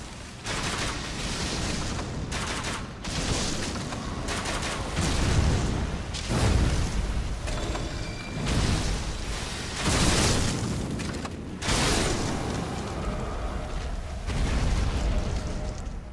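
Fire bolts shot from a crossbow or ballista burst against a boss in Elden Ring, heard as a dense, continuous run of loud booming explosions and crackling impacts with brief gaps.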